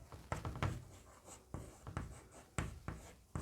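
A pen scratching across paper while working out a class 10 height-and-distance maths problem, with a series of short, brisk strokes and taps in an irregular rhythm, close and fairly quiet, with no voice over them.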